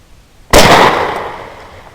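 A single loud rifle shot fired at a beaver on a property cracks out sharply after a moment of quiet, then rings and decays over the following second and a half.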